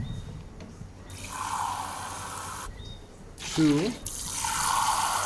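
Water poured into a pot of rice on a home stove, coming in two steady splashing bursts, close by, while a person counts aloud.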